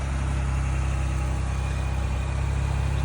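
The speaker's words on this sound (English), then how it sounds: "And then we're going to hit lock, unlock, lock. The vehicle will start." A 2021–2025 Ford Bronco engine, started by the remote start, idles with a steady, loud, close low rumble that never changes.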